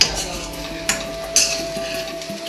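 A utensil stirs curry into baby corn paneer fried rice, with scraping and a few sharp metallic clinks against the pan over a steady background hiss.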